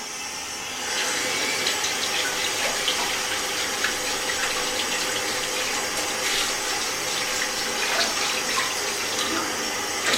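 Water running steadily during wudu ablution while feet are washed, a continuous splashing stream that begins after a short quiet start and stays fairly loud.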